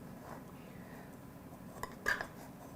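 A paring knife scrapes and then knocks against a metal mini tart pan while pumpkin tarts are levered out. Soft scraping leads to a brief cluster of metallic clinks near the end, close but moderately quiet.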